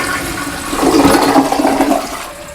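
A toilet flushes with a blue automatic bowl-cleaner tablet in the tank, a close rushing swirl of water that swells after a moment, holds for about a second, then eases off as the bowl refills.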